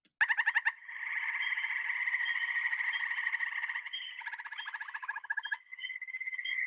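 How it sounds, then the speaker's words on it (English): Gray tree frogs in a spring pond chorus, loud continuous overlapping trills near at hand, with sharper pulsed individual calls standing out at the start and again midway. "so here's a gray tree frog"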